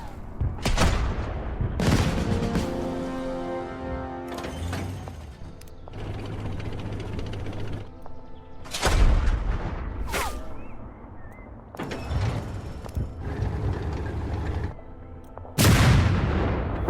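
Tank guns and artillery in the Total Tank Generals strategy game fire in a series of sharp, loud booms every couple of seconds, each followed by mechanical clanking and whirring of the units moving between shots.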